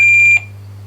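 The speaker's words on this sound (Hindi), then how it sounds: "कंटेस्टेंट नंबर 3 जतिन ने फिर समय से पहले बजर प्रेस किया है।" A contestant's buzzer on a junior quiz show sounds in one loud, steady electronic tone that pulses briefly for about a third of a second, then cuts off abruptly over a low hum.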